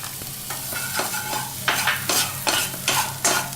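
Ginger dropped into a pan of dry-roasting peanuts, cooked without oil, gives a series of close, crackly scraping and stirring bursts that grow louder and more frequent partway through, over a steady low hum.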